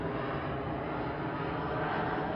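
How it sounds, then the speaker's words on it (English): Steady, broad roar of an airplane coming in to land near an airport by San Francisco Bay, continuous and fairly loud throughout with no talking. "there's a plane right now that is coming in"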